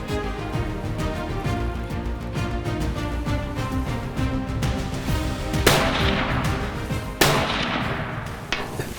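Rifle shots from a Dakota 97 Outfitter firing 200 grain Nosler Accubon bullets: two sharp, loud reports spaced apart, each with a rolling decay, over a busy background of other noise.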